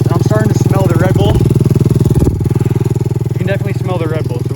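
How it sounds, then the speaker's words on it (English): A motorcycle engine running with two cans of Red Bull in place of engine oil idles and revs loudly and steadily close by, with a brief dip in the drone midway. Voices talk over it. "I really have no idea how this thing is still running on no oil and just Red Bull"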